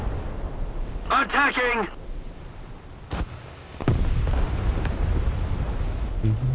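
Naval gun shells fire and explode in the World of Warships game, from the Japanese battleship Kongou: two sharp blasts a moment apart, then a rolling rumble. A short spoken in-game callout comes just before them.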